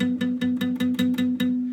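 On the second string of a guitar, the same single note is picked eight times in a quick, even rhythm, fretted with the finger too far from the fret. Each pluck is close and clear with a slightly buzzy attack.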